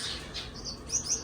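Small birds chirp and tweet in a large aviary, several short high calls scattered over a soft background hum, moderately close and with no voices.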